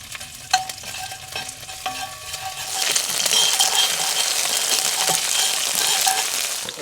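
Garlic and chili crisp cooking in a pan, with quiet stirring clinks and scrapes at first, then a steady, close sizzle and fry that swells and holds, with no talk.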